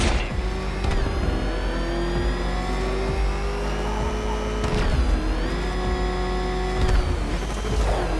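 A rickety car engine in Batman: Arkham Knight revs loudly and steadily, its pitch rising and falling across several swells with a continuous mechanical drone underneath and no talking.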